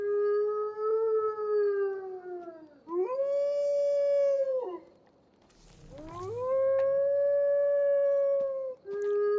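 A dog howls in Assassin's Creed Valhalla: three long, loud, mournful tonal howls with rising and falling pitch, separated by short breaths, alone and close.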